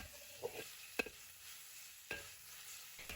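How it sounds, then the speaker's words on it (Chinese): Pork belly stir-fried in a wok, with quiet sizzling under occasional sharp scrapes and clinks of a spatula against the pan, faint and without any speech. "全程大概需要翻炒3-4分钟左右，把五花肉多余的油脂炒出来"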